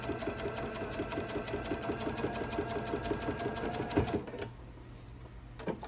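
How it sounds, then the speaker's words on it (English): A sewing machine runs steadily, stitching down the side seam of an apron in a fast, even mechanical rhythm close by, then stops abruptly near the end, leaving a quiet room. "I'm going to sew all the way to the end of that side, and we're leaving the top open for your pocket"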